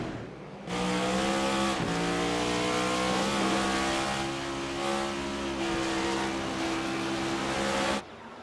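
Race cars at Watkins Glen accelerating together at a green-flag restart: a loud, sustained multi-engine roar whose pitch climbs and shifts as the pack launches, then cuts off abruptly.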